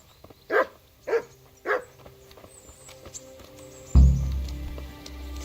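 Dogs in the video game Kingdom Come Deliverance give three evenly spaced barks at mid distance, followed by a loud thud and low rumbling background noise.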